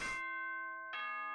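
A two-tone school announcement chime from the video game Danganronpa: Trigger Happy Havoc, a bright bell-like ding-dong with sustained ringing tones, clear and up close with no talking.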